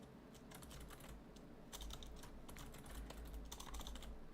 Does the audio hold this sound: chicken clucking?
no